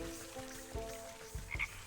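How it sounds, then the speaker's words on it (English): In the video game Wytchwood, a frog gives a few short croaks, spaced irregularly over soft game ambience with a brief higher chirp near the end. "Gotta gather the frog."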